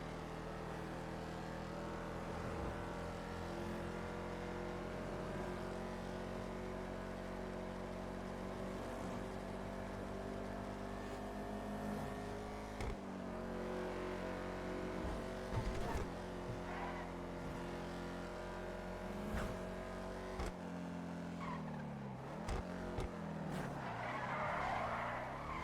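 Camaro engine driving in the game GTA NoPixel, a steady, continuous drone with shifting pitch over the full stretch, with skids and a brief tire squeal toward the end.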